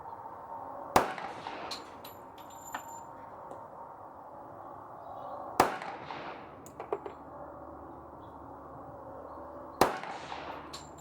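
Three sharp, loud pistol shots from a CZ Shadow 2 or Ruger SR1911 at an outdoor range, spaced several seconds apart, each with a brief ringing tail over a low ambient hum.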